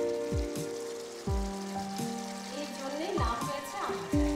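Mango pickle going into pomfret fish as it fries in a pan, with sizzling and spattering that swells in bursts over a steady bed of frying. Someone speaks over the cooking.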